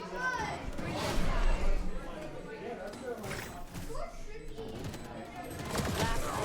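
Gunfire in the video game Valorant, shots fired through smokes and a wall, rapid bursts and cracks mixed with other game noise under continuous excited commentary.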